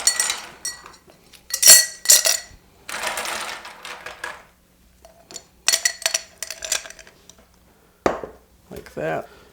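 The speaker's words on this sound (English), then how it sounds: "We want to fill with ice." Ice cubes dropped into a Collins glass for a mojito, bright clinks and rattling in several separate bursts with pauses between, close by, mixed with other small handling clatter.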